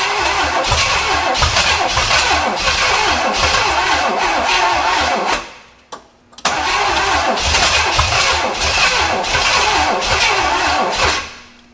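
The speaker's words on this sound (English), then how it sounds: "Let's crank her a bit and see if that pulls fuel." A seized 48-year-old barn-stored Pontiac engine cranks loudly and steadily without catching, stops briefly, then cranks again in a second long, close burst.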